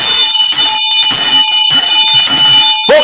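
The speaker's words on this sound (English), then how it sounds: "we are banging away, folks, at our bell" A bell struck repeatedly at close range, loud ringing tones that sustain and overlap with fresh strikes every half second or so, no talking.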